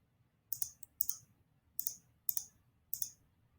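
Laser cutter cutting out parts for a phone stand, giving five short, crisp bursts of clicking hiss at irregular intervals over a faint low hum.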